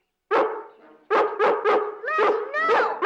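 Lassie, a collie dog, barks nearby in a series of loud, sharp woofs, first one bark then a rapid run of several barks close together, with no talking over them.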